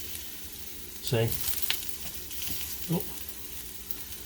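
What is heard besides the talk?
potatoes brushed with olive oil sizzling in grill pan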